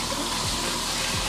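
Rain-head shower in a Las Vegas hotel bathroom with marble tile, running steadily at good pressure, a continuous close broadband rush of falling water with no voices.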